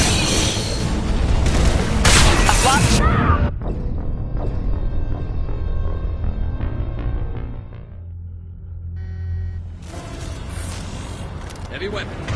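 Heavy weapon explosions in the sci-fi shooter Mass Effect 2: loud booming blasts and rumbling roars up close, with a long rumbling tail between the louder bursts and a crackling low drone.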